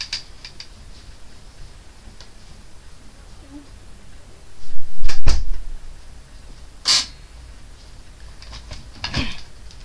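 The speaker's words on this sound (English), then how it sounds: "I just had to go and shut the door" A door being shut nearby indoors, a single solid thump with a brief rattle, followed a little later by a sharp click and faint handling knocks in a quiet room.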